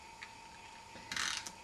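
A snail adhesive tape runner pulled across cardstock gives a brief faint ratcheting, rasping burst near the end, over a steady low background hum.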